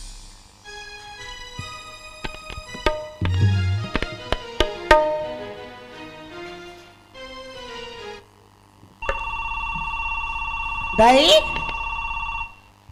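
A mobile phone rings during a Chhattisgarhi gammat stage play, a loud, sustained electronic ringtone that follows a stretch of talk and clattering music, with a voice cutting in briefly over the ringing.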